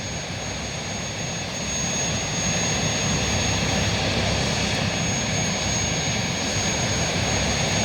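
Hovercraft engines in the Transport Fever 2 video game give a constant loud roaring drone with a faint high whine on top, swelling slightly and then holding steady throughout.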